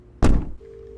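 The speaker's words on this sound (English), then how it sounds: "The room next door to me keeps banging on the wall." Banging on a hotel room wall from the room next door, heard as one heavy dull thud followed by a low lingering hum.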